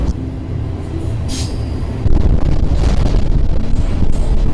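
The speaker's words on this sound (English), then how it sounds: "Eventually, they said the train was clear, picked up speed, and now we're on our way." Freight train rolling through the Washington mountains toward Wenatchee, a steady low rumble of wheels and cars with wind buffeting, growing louder and heavier about halfway through as it gathers speed.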